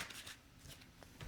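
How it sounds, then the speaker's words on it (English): Tarot cards are shuffled by hand in a quiet, close, soft papery riffle lasting about a second. "the cards that come out for me while I do my shuffling"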